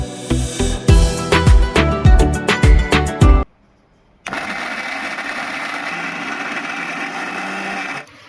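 A kitchen grinder machine used while making semai gives a burst of rhythmic pulses, stops briefly, then runs with a loud, steady whirring roar that holds for several seconds.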